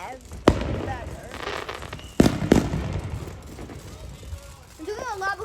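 July 4 fireworks bursting outdoors, with a couple of sharp booming explosions and crackling, while people talk and exclaim nearby.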